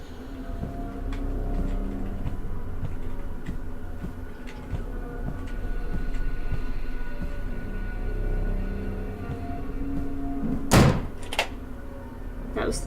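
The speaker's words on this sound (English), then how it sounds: "That was the door locking behind me" Door locking in the horror game Black Rose: a sharp, loud clunk near the end, quickly followed by a second metallic click, after a stretch of quiet footsteps and low ambient hum.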